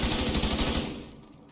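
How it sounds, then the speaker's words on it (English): An assault rifle in The Division 2 fires a rapid burst of about a dozen evenly spaced, loud, close shots, then cuts off and a short echo tail fades away. "Now, if I use the assault rifle"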